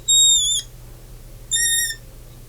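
A pen squeaks twice against a board or page while writing, each a short high-pitched squeal with tonal harmonics, separated by a brief pause, fairly loud and close over a quiet hum.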